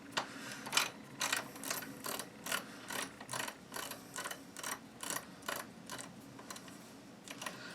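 Repeated ratcheting clicks come from a part being screwed into a Mossberg Maverick 88 pump shotgun during disassembly, a steady run of close, crisp mechanical ticks in quick bursts with no talking.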